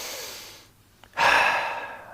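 One person's slow breath during a yoga meditation, with a soft fading exhale and a short pause, then a clear rushing inhale close to the mic.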